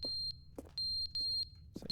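Short, shrill electronic chirps from a smoke detector in The Stanley Parable repeat several times in quick succession, mixed with soft knocks and a low room hum.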